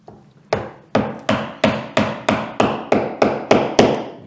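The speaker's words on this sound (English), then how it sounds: "if you can try and get it started by using a chisel with the flat edge" A flat-edged chisel is hammered against the roof channel of a Morris Minor Traveller under restoration, giving a steady series of about eleven sharp metallic taps, loud and close, each with a brief ringing decay.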